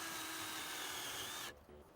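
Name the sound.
power drill drilling holes in plywood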